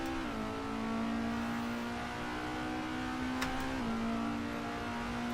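A race car engine in the Assetto Corsa video game holds a steady, close, high drone, dipping in pitch twice as the car nearly spins out at a hairpin, with a faint tick midway.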